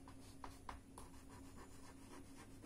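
Pen or chalk strokes across a writing surface during a maths lesson, a run of short, faint scratchy marks at a steady pace over a low constant hum, with no talking.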